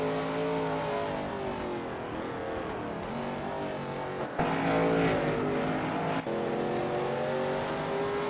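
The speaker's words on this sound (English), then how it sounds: "That car is really unsettled from being pushed for every last bit of speed." Shelby Mustang GT350R race car engine at full effort around Sebring in a racing game, a loud steady harmonic drone with pitch swells and shifts, a sharp gear change midway, then the note climbs again.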